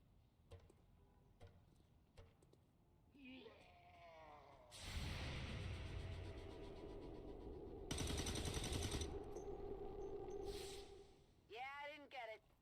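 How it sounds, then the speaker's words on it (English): Heavy gunfire rattles in an Overwatch match, with two long, dense bursts of rapid shots, scattered clicks and other game effects, and people talking now and then. "Under heavy fire."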